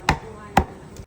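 Thick-cut chicharon pork is chopped with two sharp, close knife strikes about half a second apart, then a faint third tap.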